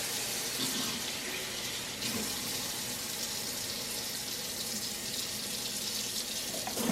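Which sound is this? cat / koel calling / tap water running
tap water running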